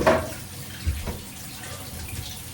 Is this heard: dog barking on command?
no